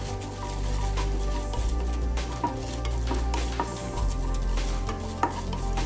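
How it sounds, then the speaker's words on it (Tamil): Chana dal and urad dal dry-roast in a pan over medium heat for carrot chutney, giving a steady low rumble with scattered scraping and clinking as a utensil stirs the lentils, close and fairly loud, with no talk. "கடலைப்பருப்பையும் உளுந்தம்பருப்பையும் நல்லா பொன்னிறமாக வர்ற வரைக்கும் வறுத்துக்கலாம்."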